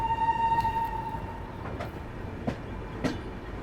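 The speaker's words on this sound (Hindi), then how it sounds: "बाकी मुजफ्फरपुर स्टेशन से फिलहाल अपना डिपार्चर हो चुका है बिल्कुल निर्धारित समय से।" The Bihar Sampark Kranti Express pulls out of Muzaffarpur station with a steady rumble of rolling rail cars, a faint whine, and a few soft clanks over the track joints.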